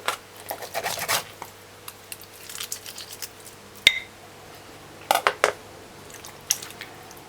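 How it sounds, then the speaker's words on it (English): A sharp knife cuts a raw chicken leg in two on a board, giving scattered soft crunching and slicing clicks with a few sharper knocks, close and fairly quiet over low background hum. "You just cut it in 2. Just like that. With a sharp knife."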